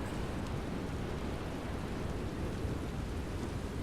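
Steady heavy thunderstorm rain in The Elder Scrolls pours as a dense, continuous hiss with a low rumbling undertone, loud and unbroken throughout, with no voices.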